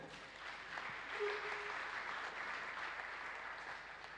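Applause from a church congregation rolls on evenly, a soft, dense patter of many hands clapping together throughout the room with no speech over it.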